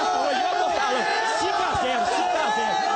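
Euphoric Cruzeiro football supporters in a stadium crowd roar and chant continuously, a dense wall of cheering and shouting voices that never lets up.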